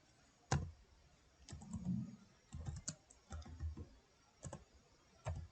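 Computer keyboard typing a command while configuring a Cisco switch, soft irregular keystrokes in short bursts, close and quiet against low background hiss.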